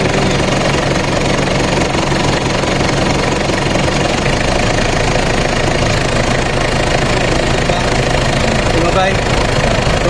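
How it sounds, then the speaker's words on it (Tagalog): A Mitsubishi Pajero 4M40 diesel engine idles loud and close with the aircon compressor running, a steady clattering rumble with knocking texture that never lets up, while a voice talks over it. "isisindi natin yung aircon kung gagana yung compressor. Yan, dapat pipitik yung clutch."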